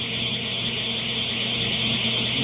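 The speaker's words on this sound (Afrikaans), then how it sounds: "Die alarm het afgegaan." A smoker's temperature alarm on a kasegrill sounds a steady, piercing, high electronic tone that holds unbroken and loud throughout.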